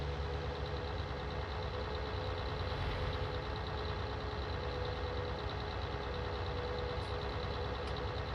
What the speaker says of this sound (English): A little big tractor for these roads, don't you think?